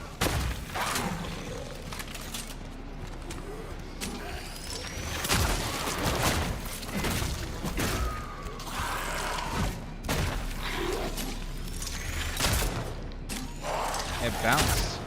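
Gunfire in the sci-fi horror game Cronos: The New Dawn, with repeated heavy shots and impacts amid mechanical noises and creature roars, mixed with a player talking throughout.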